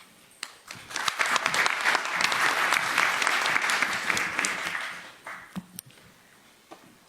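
Audience applause welcoming the New York City Department of Transportation and RPI presenters as Edelman finalists: sustained clapping from a room full of people that builds, holds for several seconds, then thins out to scattered claps.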